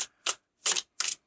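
Tarot cards being shuffled live, three crisp papery riffles in quick succession, each a short bright burst separated by silence, close and clear.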